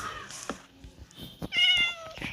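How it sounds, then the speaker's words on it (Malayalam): A cat meows in Minecraft, several short mewing calls scattered through the moment with a clearer drawn-out meow near the end, fairly close and without talk. "ഈ പൂച്ചനെ ഒന്ന് ടൈം ചെയ്തെടുക്കാം."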